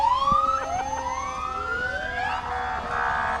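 Fire engine siren from the Vernon Fire and Rescue Service in a winter carnival parade, rising and sweeping wails repeating over a few seconds, loud and fairly close with street noise behind.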